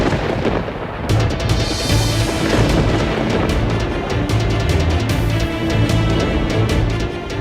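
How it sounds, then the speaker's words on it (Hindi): A loud storm with thunder, deep continuous rumbling and booming with crackling bursts sustained throughout, no voices. "आ गया तूफान।"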